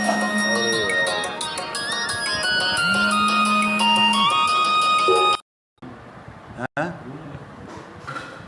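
A phone ringtone plays during a recorded devotional reading, a looping electronic melody of bright repeating tones that runs loudly for several seconds, then cuts off abruptly. A background hum follows.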